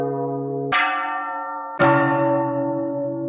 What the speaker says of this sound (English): I want a big church bell in the key of